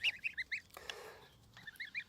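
A rescue Embden goose honks in a quick run of nasal calls, then falls briefly quiet before a second burst of close, fairly loud honks.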